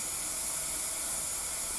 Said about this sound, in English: As steam began to wisp from the safety valves